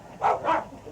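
Two quick dog barks close by, loud and sharp, separated by a short gap, with no talking over them.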